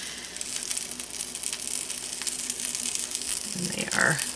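Chicken patty melts sizzle in a pan, a steady broadband hiss of frying that runs throughout at moderate level, with a brief clatter near the end.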